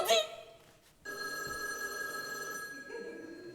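A telephone bell rings with a sustained electronic trill after a brief burst of voice, continuing steadily at moderate distance in a room.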